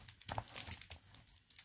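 The contents of a taped-up box from a thrift store and estate sale haul of junk journal supplies tumble out with crisp crinkling, rustling and light tearing of packing material, close and fairly quiet.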